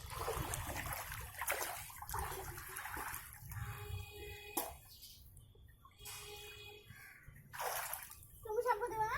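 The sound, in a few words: water poured over a child during a bath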